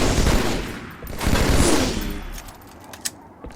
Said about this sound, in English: Here are a few examples of ways that I've used the double shot in mid-combat to get some kills